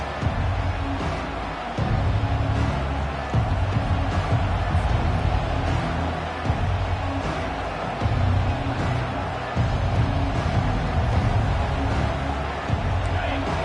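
Stadium crowd roaring at an American football game, a loud, sustained swell of cheering that rises and falls in waves, with a commentator talking over it.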